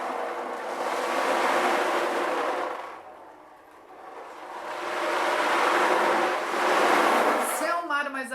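Prop-made sea waves, swelling surf-like washes handled to suggest rough or calm water, rise loud, fade to a lull, then surge again, ending in brief rattling.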